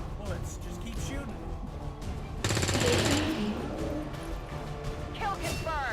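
Bursts of gunfire from XCOM 2: War of the Chosen crackle over constant game noise and voices, with one dense, loud rattling burst in the middle of the clip.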